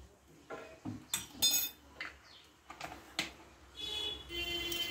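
Metal spoon scraping and clinking against a pan while egg prawn fried rice is stirred, irregular taps and scrapes at close range with quiet gaps between them and no talk.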